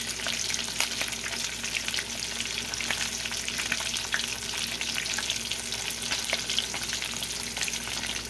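Fish fries in a pan with a dense, steady sizzle and crackle, frequent small pops of hot oil, close and continuous without any voices.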